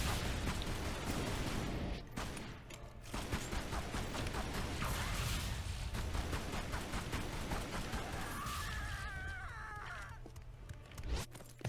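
Gunfire in Tomb Raider Anniversary's final boss fight, with rapid bursts of shots and clattering mechanical effects filling the mix almost without pause, dense and loud throughout.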